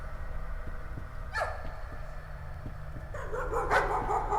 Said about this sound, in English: Oh, we didn't kill the dog, did we?